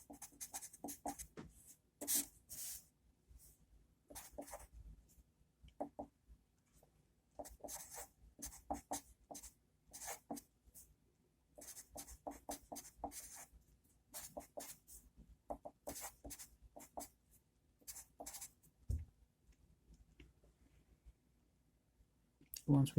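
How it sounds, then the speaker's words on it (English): Pen scratching on paper while working a calculus curve-sketching problem, short bursts of close scribbling strokes separated by pauses, no talking. "So we can write our intervals."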